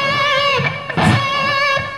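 An electric guitar played with distortion bends a note up a whole step on the B string to C sharp, one sustained, rich tone that wavers in pitch and is heard alone up close.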